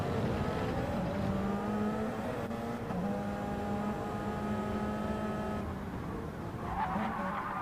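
Race car engines in a racing game with Toyota and Porsche entries: a steady, loud, droning roar of several engines held at high revs, with tire squeal and shifting pitch as the cars run together.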